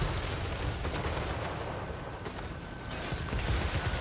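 Dense volleys of gunfire and battle noise from a Total War: Warhammer 3 fantasy battle, a steady loud barrage of overlapping shots and impacts running without pause.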